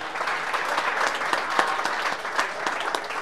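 An audience at the Epitrapezio 2014 board game competition closing ceremony claps steadily, a dense run of many hands with crisp individual claps standing out, and no voices over it.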